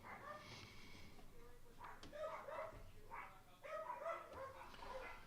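Several dogs bark outside in faint, distant bursts, with a few yips and whimpers mixed in, coming in irregular clusters over a low background.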